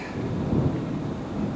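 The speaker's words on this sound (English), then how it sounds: "I think it's the most intense storm we've had so far this year" Deep rumbling thunder from an intense early morning storm rolls loudly through steady rain, swelling midway and fading, with no voices.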